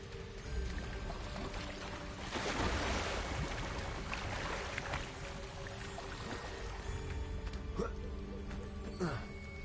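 A waterfall in Hogwarts Legacy on PS5 makes a broad rushing wash of water that swells loudest in the middle, mixed with soft chimes and mechanical effects, at a moderate distance.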